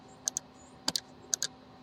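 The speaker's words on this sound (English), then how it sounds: "If you hit R on your keyboard, that's a shortcut for revolve" Computer keyboard keys tapped during CAD modeling, a few sharp clicks in pairs and small clusters spread over a couple of seconds, close and crisp against near silence.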